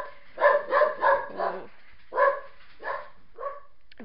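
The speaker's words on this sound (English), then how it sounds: "Very angry dog. She doesn't like the mailman." Pet dog barking angrily at a mailman, a burst of four sharp barks followed by a few more spaced ones, close and loud, with a brief exclamation from a person.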